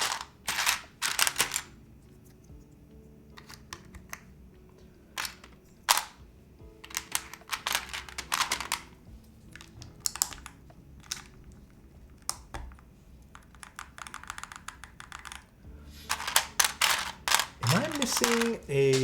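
Clattery keystrokes on a custom Kangaroo mechanical keyboard with a metallic ring, coming in irregular bursts and pauses, with a voice talking at times.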